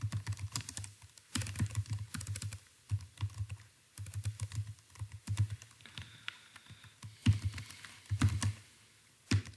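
Close-miked computer keyboard clatters as C++ code is typed, bursts of quick keystrokes with short pauses between runs, steady and fairly loud, with no one talking.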